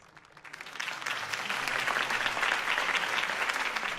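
Steady applause from a crowd in a video game swells and then holds, a dense wash of clapping heard from a moderate distance.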